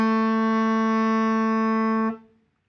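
A tenor saxophone holds a single steady note B for about two seconds, clear and even, then cuts off cleanly, played alone.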